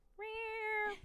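Pet cat Busy gives a single soft, drawn-out meow lasting close to a second, clear, near and alone, with no talk over it.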